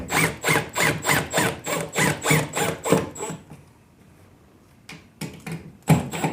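Screws driven through a bracket into a drywall anchor for mounting an acoustic panel: a rapid run of about a dozen rhythmic grinding bursts, close and loud, then a pause and a few shorter bursts.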